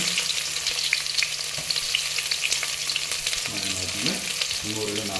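Chicken frying for pepper chicken dry, a loud, steady close sizzle with crackling oil, joined by a scraping stir of the pan near the end.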